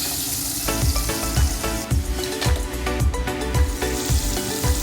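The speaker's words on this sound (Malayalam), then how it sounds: "ഫുള്ളായിട്ട് വറുത്ത് കഴിഞ്ഞിട്ടുണ്ട്." Battered KFC-style prawns deep frying in hot oil, with a steady, loud sizzle and bubbling that carry on without a break and no talk over them.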